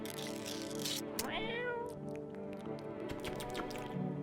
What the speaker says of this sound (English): Pet the cat.